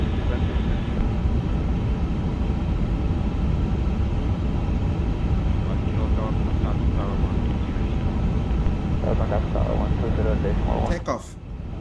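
A Singapore Airlines A350 takes off from Johannesburg, a steady, loud broadband jet roar filling the cabin throughout, with a brief clatter and drop in level near the end.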